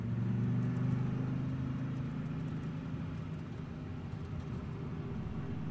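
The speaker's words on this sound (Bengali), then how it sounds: "সে তার গাড়িতে বসে বাড়ির দিকে রওনা হয়।" A car drives along with a steady low engine hum and road rumble, close and even throughout, with no voices.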